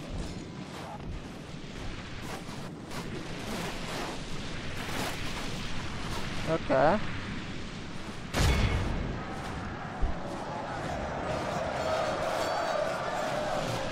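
Artillery booms and battlefield din from the Third Age Total War strategy game, a steady wash of crowd and combat noise with a heavy blast near the middle, under a voice speaking briefly.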